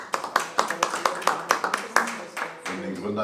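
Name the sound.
audience applause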